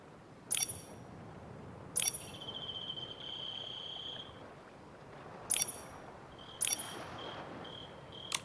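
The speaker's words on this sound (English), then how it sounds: "it looks like the star bell is twinkling. Maybe try shaking it?" A star bell in the video game Infinity Nikki is shaken in four bright jingling bursts, each leaving a ringing tone that trails off, over a soft, steady background hiss.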